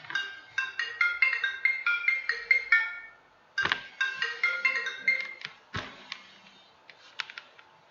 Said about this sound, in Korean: 전화가 갑자기 울려서 깜짝 놀랐습니다.